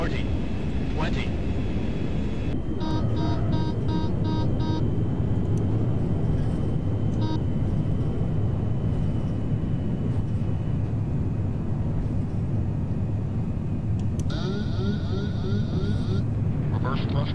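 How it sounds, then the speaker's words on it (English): Simulated L1011 airliner on landing rollout with reverse thrust engaged in a flight simulator, a steady loud broadband engine roar sustained throughout, with synthetic cockpit callout tones and chimes layered on top. "Reverse thrusters engaged."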